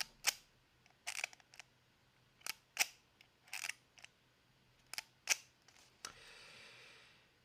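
An East German (GDR) camera's shutter cocked with its lever and fired several times: a run of sharp, quiet mechanical clicks, some in quick pairs, close up in a still room, ending in a soft hiss.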